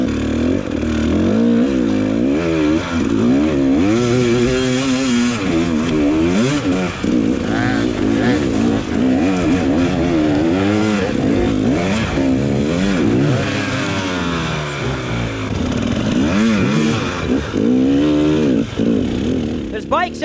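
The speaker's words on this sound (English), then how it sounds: "There's bikes everywhere." Dirt bikes at a hard enduro race, the Battle of the Goats, rev and rise in pitch over and over on a steep climb, close and loud, with several engines overlapping and a person talking over them.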